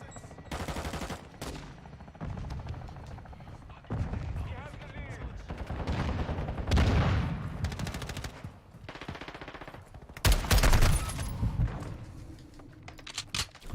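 Modern Warfare 2 gunfire comes in rapid automatic bursts and separate sharp shots, loud and close, with short gaps between volleys and a heavy burst near the end, while a voice talks over parts of the action.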